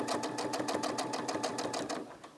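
A Brother SE600 sewing and embroidery machine stitches in a fast, even run of mechanical clacks, close and steady, slowing slightly at the end with no talking.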